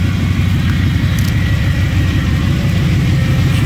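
A 1984 box van engine idles steadily on fresh fuel, a loud, even mid-low rumble with a regular pulsing beat, close by and with no talk.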